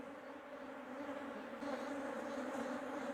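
Honey bees hum steadily around a crowded nucleus hive during colony splitting, a close, continuous drone that swells slightly louder halfway through, with no talking.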